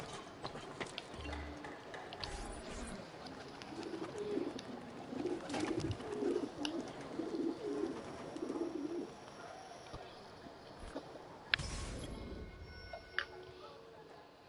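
Pigeons coo at a rooftop pigeon coop in Assassin's Creed II, a soft, low burbling run of calls through the middle of the stretch over a steady game ambience, with a few louder mechanical thumps and clicks.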